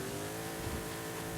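Mercedes X-Class pickup accelerating in Forza Horizon 5 on a Baja off-road course, a steady, fairly quiet engine drone building under load with no voices.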